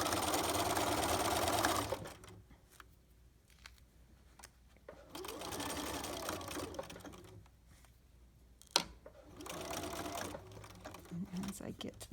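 A sewing machine stitches a pocket with reinforced corners, running in three close, steady bursts separated by pauses where a voice talks.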